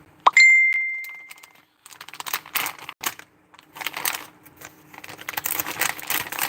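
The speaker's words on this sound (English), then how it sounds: "I forgot to turn off my notifications." A short electronic chime rings out once, near and clear, on a quiet background, followed by faint crinkling and tapping handling noises.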